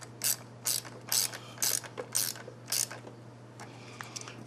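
A ratchet tightens the nut on a battery terminal connection, six crisp clicking bursts in an even rhythm up close, then quieter handling over a low hum.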